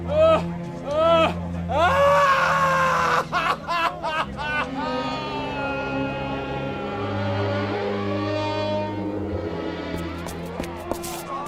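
A man in a radio drama lets out drawn-out, pained cries and screams. Other voices and rumbling background noise run underneath, and the cries are loud at first before fading into murmuring voices.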